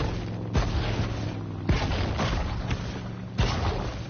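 Three heavy launcher blasts from the video game Maneater, each a sharp booming thump with a short rumbling tail, spaced about a second or more apart over a continuous low game background.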